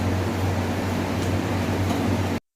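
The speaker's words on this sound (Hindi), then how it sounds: "चल रहा है कूलर चल रहा है" A household air cooler runs close by with a steady, loud droning hum and broadband fan rush, unchanging throughout before cutting off abruptly near the end.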